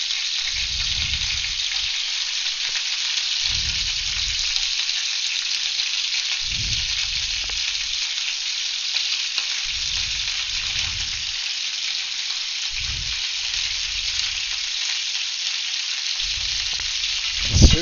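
Paprika chicken pieces fry in a pan, giving off a loud, continuous bright sizzle throughout, while low rumbling handling noises come and go in separate bursts.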